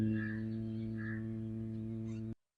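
A low, steady nasal hum imitating a honeybee during a breathing exercise, a single sustained buzzing tone held for about two seconds before stopping abruptly.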